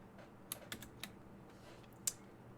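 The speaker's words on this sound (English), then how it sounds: "you need to push Windows pause" A few sparse key presses on a computer keyboard, a handful of sharp clicks including a quick pair, close and clear in an otherwise quiet room.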